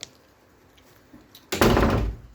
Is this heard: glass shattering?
no